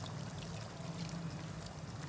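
Water is poured into a pan of cauliflower sabzi in a soft, steady stream over a low hum. The pour stays faint and even for about two seconds.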